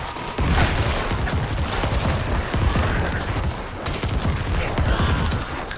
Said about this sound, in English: I love the cluster bombing